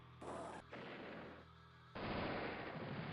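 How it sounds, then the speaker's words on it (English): Bursts of synthetic cannon fire from an anti-tank cannon in the Commander Wars strategy game, a few distinct blasts ending in a louder sustained boom, faint and alone. "Oh, it's an anti-tank cannon."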